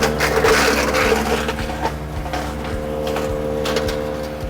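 Self-feeding wood chipper pulling in and chipping branches around an inch thick, a loud steady engine drone with grinding and crunching, rhythmic knocks about every half second, close by.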